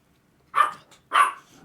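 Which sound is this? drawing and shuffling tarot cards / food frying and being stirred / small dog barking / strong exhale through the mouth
small dog barking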